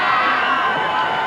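Dense crowd of thousands of young people from around the world cheering and shouting for Pope John Paul II at World Youth Day in Toronto, a steady loud roar of voices and whoops throughout.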